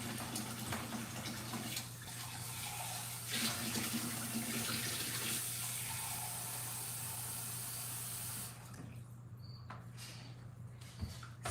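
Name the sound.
tap running to draw hot water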